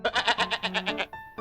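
A goat bleating as a sound effect in a read-aloud children's story, a close, loud, wavering cry of rapid pulsing tremolo lasting about a second, followed by a brief tonal note.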